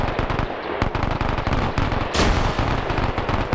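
Rapid, dense gunfire crackles in bursts through a WW2 combat video game, with a loud grenade explosion booming near the middle, all close and continuous with no pauses.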